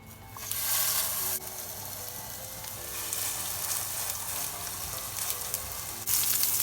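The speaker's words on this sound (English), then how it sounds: "I'm gonna grill the burgers" Hamburger steak patty sizzling on a hot grill, a steady close crackling hiss that swells louder at the start and again near the end.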